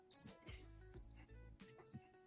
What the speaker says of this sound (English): That's crickets.